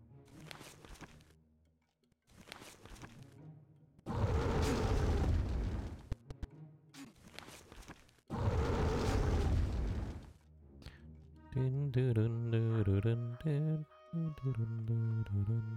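Flame Burst spell explosions in the video game Might & Magic 8 go off as two loud, sustained fiery roaring blasts separated by quieter stretches with footsteps, and game music plays near the end.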